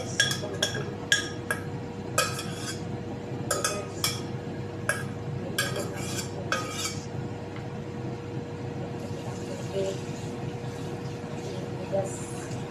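Metal utensils clink in quick clustered taps against pots and dishes during home cooking in a kitchen, with a steady low hum underneath and softer clinks later.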